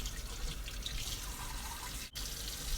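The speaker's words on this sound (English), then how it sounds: "I first started off with washing my peppers." Peppers being washed and rinsed under a running tap make a continuous, close rush of water with a brief interruption partway through and no voices.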